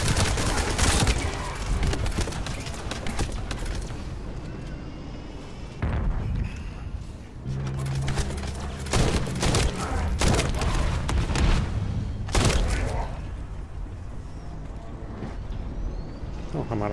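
Gunfire from The First Descendant, heavy bursts of automatic shots and booms in clustered volleys separated by short lulls, loud and close, mixed with game effects.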